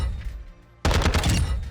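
In Modern Warfare 2, an F-TAC 56 rifle opens up on the firing range: after a short quiet pause comes a sudden loud, sustained burst of rapid automatic fire that runs to the end.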